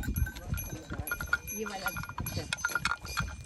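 Goats with bells tied at their necks, on a path between two hills, give a busy jangle of bell clinks and hoof clatter mixed with animal calls, while a person talks nearby throughout.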